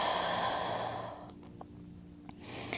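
A long audible exhale during a yoga forward fold, a close breathy sigh that fades after about a second, followed by quiet and the start of a new inhale.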